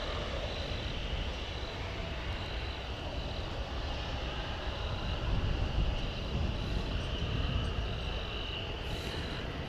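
A jet airliner at DFW Airport taxis toward its takeoff runway, a steady distant engine roar that swells slightly midway, with insects chirping faintly in the background.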